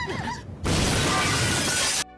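Glass falls and shatters in a horror film scene, nearly landing on two people: a sudden loud crash bursts in and a dense spray of breaking shards follows for over a second before cutting off.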